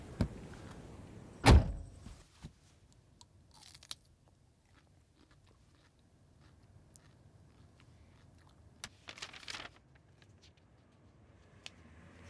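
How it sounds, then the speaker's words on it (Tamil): At a beach, a car door slams shut with a single loud, close thud early on, then only scattered faint clicks and small knocks follow in near quiet. "அந்த டோரை கொஞ்சம் க்ளோஸ் பண்ணுங்க"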